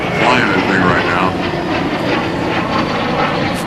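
A restored trainer airplane fitted with U.S. avionics and electrics, flown by Alan Smith at the 2004 NAS Oceana airshow, roars loudly and steadily overhead while an announcer talks over the engine noise.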